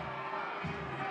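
Crowd of Sooner fans at an Oklahoma college softball night game at Love's Field, murmuring and groaning with displeasure: a steady low wash of many voices, moderately loud, with no single voice standing out.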